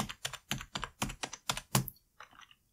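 Computer keyboard keys clatter in a quick even run of about eight sharp presses, then a few softer taps trail off, close and clear with no voices.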